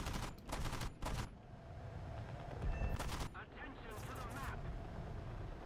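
Machine-gun bursts from an F3D aircraft's guns in a combat video game: several sharp rapid volleys, the loudest early on, then a later cluster of quicker, lighter bursts over a steady engine rumble.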